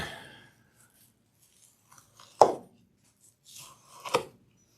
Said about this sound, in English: And now I can cut, keep on cutting.